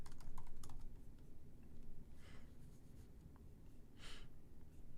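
Rapid, uneven clicking of a computer keyboard as someone types, soft close keystrokes with a few louder key hits, over a low background hum.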